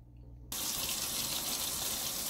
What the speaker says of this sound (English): You run it under water.